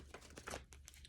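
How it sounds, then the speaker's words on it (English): Tarot cards shuffled by hand in a few quick riffling, crinkling bursts, soft and close, with no talking. "Let me shuffle a couple times."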